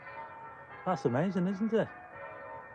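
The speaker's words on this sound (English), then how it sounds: "can you hear those bells from that church?" Church bells ring outside in a steady, distant peal that runs through the whole moment. A person's voice talks over the ringing partway through.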